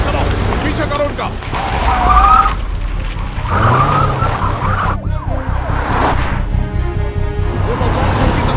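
During a movie car chase, cars screech through repeated tire skids with wavering squeals, amid loud engine noise and what sounds like wailing sirens. The whole scene is busy and close-up.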